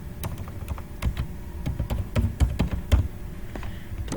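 Rapid clicking keystrokes on a computer keyboard in uneven bursts, close and crisp, with no talking.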